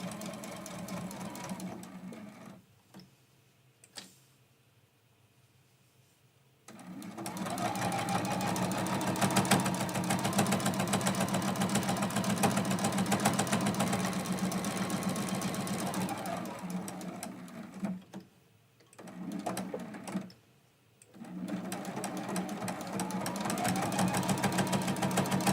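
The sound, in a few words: sewing machine stitching a quilted mug rug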